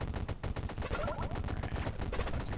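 Rapid bursts of frost barrage bullet gunfire from the DBK Shoot'em Up video game, a dense, steady rattle of repeated shots over busy game music and effects, with no voices.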